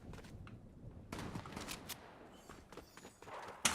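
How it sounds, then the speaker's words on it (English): Gunfire crackles in a PUBG match as scattered, fairly faint shots and sharp impacts, with one louder crack near the end. "Who the heck is shooting here?"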